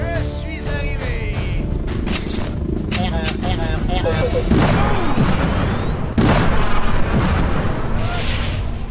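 Gunfire volley and heavy booming blasts from a battle scene, loud, dense and continuous, with two sharp louder bursts partway through and a sustained rumbling wash underneath.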